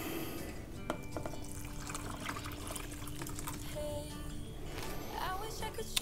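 Broth poured into a Sauerbraten marinade of soy sauce and white wine vinegar, a continuous splashing, trickling pour with faint clinks, moderately close.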